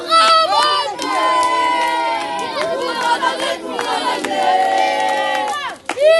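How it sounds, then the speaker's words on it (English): Group of Israeli settler youths outside a house in Hebron shouting and jeering together, loud overlapping yells and chants with sharp bursts, close and chaotic, ending in a sudden loud cry. "that was a group of Israeli settler youths outside of Amra's house, throwing stones, shouting and threatening him"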